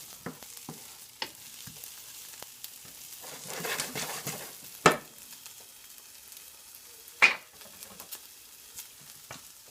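Andouille sausage sizzling in a pan over medium heat, a faint steady frying hiss with a few sharper pops and clatters of a utensil, building briefly in the middle, with no talking.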